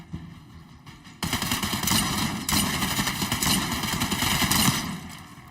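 A shotgun fires in Call of Duty Black Ops 6 amid a rapid, sustained stream of loud gunfire that continues for several seconds.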